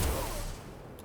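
Gunfire in the Necromunda: Underhive Wars video game, a loud burst of shots opening with a heavy low-end blast and then a ringing, decaying tail, with no speech over it.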